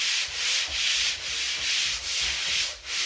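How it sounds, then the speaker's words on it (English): Steady rhythmic scraping of a swivel-head sanding pad on a pole worked across drywall, regular back-and-forth strokes roughly every half second, close and moderately quiet with no talk. "We have a sanding pad here. It's on a pole"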